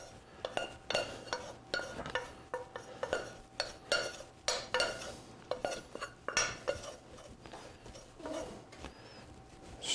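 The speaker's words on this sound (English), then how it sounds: "Stir that in good." Pre-cooked rice being stirred into a pan mix with a utensil, giving quiet, irregular clinks and scrapes against the pan with brief pauses and no talk.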